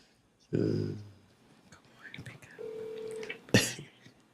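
Phone dialing tones and a brief ringback tone sound during a call to mama, with whispered and spoken voices before and after.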